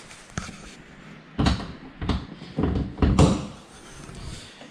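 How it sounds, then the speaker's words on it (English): A Porsche 911 door is opened in a quiet garage, giving a cluster of short clunks and latch knocks close by, with a few muffled thumps spread over several seconds and no talking. "Let me just open the door so it doesn't lock itself"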